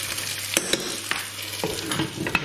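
Garlic and ginger paste with onions sizzling in a pan, a steady frying hiss broken by several sharp stirring scrapes and clacks; close and fairly loud, no voices.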